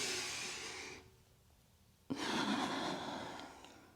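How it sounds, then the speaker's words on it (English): Deep, audible breathing during a side-body yoga flow: one long airy exhale fades out, a quiet pause follows, then another strong breath begins sharply and carries on steadily, close to the listener with no talking. "Let's add some breath. An inhalation to lift and an exhalation down."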